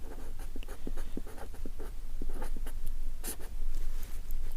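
Hand writing out Euclid's division algorithm for a Class 10 maths exercise: a steady run of short pen strokes and scratches, close and fairly loud, continuing without pause and with no talking.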